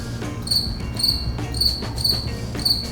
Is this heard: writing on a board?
no